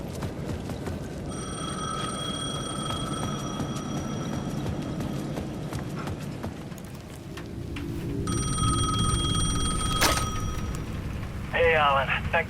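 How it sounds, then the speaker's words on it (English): A payphone rings in the video game Alan Wake 2, with repeated bursts of bright electronic ringing over a dark, rumbling ambient background. "The payphone at the edge of the plaza was ringing again."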